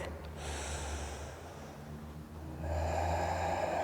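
Slow, deep breaths during a gentle yoga practice, an audible inhale followed by a fuller, louder exhale, close and unhurried with no talking.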